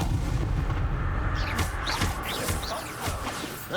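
A Confringo fire spell blasts during a Hogwarts Legacy duel, a loud booming explosion with crackling bursts over a rumbling low roar, part of continuous spell-fire combat.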